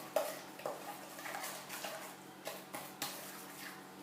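Banana bread batter being mixed in a bowl set on a tea towel, a series of wet, sticky scraping and sloshing strokes at irregular intervals, close and moderately quiet, with no talk.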